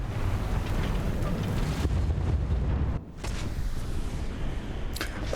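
Tank shell striking close to a tank in War Thunder, a loud rumbling blast and roar amid continuous engine noise, followed by a sharp crack and a second brief impact near the end.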